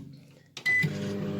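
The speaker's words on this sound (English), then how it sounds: "I'm going to put it back in the microwave for just for the" A kitchen microwave oven starts up after a door clunk and a brief beep, then settles into a steady close hum as food heats for the last thirty seconds.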